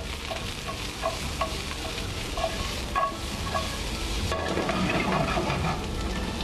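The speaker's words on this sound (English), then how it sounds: "Followed by some of the zucchini. All right, let that start sauteing." Zucchini and eggplant sauté in a hot pan, with a steady sizzle, occasional stirring scrapes and clicks, close and continuous with no talking.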